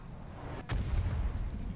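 A Thumper cannon fires in the BattleTech video game: one sharp, loud blast followed by a rumbling low boom that rolls on for over a second, with no voices.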